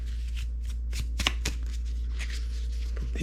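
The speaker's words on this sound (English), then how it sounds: "Okay, shuffled the deck." A deck of cards is shuffled close by in a quick series of riffling flicks and slaps over a low steady hum, with no talk.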